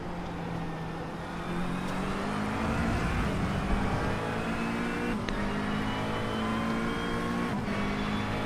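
A race car in a racing video game drives at Spa, its engine droning steadily with shifting harmonic whine as it sweeps into a braking zone, loud and close, with no talking.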